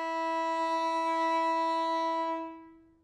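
One long bowed fiddle note played with the first finger on the D string, steady and clear, held for a couple of seconds before trailing off, played alone without any voices.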